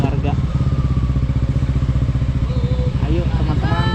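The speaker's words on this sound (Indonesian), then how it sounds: "Kita berangkat 3 motor sekarang" Three motorcycles set off on a ride to Dayeuh Luhur in Sumedang, their engines making a close, pulsing rumble under a person talking.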